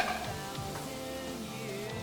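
Steak for a Philly cheesesteak frying in a pan, a steady close sizzle with occasional soft stirring scrapes.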